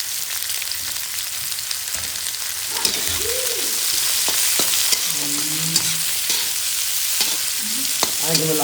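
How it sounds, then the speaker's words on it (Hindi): Onions fry in hot oil in an iron pan, a loud close steady sizzle and crackle with occasional stirring knocks, while brief faint low tonal sounds drift in the background. "देखियो लोहिया चढ़ि गेलैए, तेल चुटुर चुटुर बजैया।"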